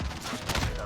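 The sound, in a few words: FAMAS burst rifle gunfire in video game Call of Duty Modern Warfare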